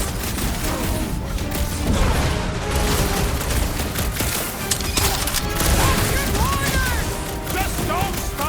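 Rapid gunfire and crackling impacts fill a firefight in the video game Marvel's Guardians of the Galaxy, with bursts of shots, booms and splintering debris running continuously under occasional shouted voices.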